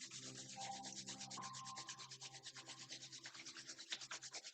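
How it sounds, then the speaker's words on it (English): Palms rubbed briskly against each other to warm them during a yoga session, a steady close, soft rasping swish that repeats in quick regular strokes. "rub the palms against each other, generate urja, make them warm"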